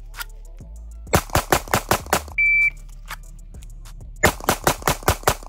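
A SIG P365 XL pistol without a compensator fires two rapid strings of about six sharp, loud shots each, separated by a brief electronic beep and a pause.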